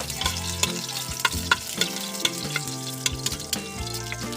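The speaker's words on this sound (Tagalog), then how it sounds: "Igisa natin to guys" Ingredients for shabu shabu sautéing in a hot pan, a loud close sizzle broken by repeated clatters and scrapes of stirring, with no talking.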